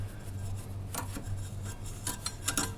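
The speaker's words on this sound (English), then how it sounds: "just with the little brush, we can just get in around these sections and just all throughout, just brushing those coffee grinds down to the bottom" A small brush scrubs leftover coffee grounds inside an espresso machine, brushing them down toward the puck tray, producing soft scratchy rubbing strokes with a few brighter rasping bursts near the end, close and fairly quiet, no talking.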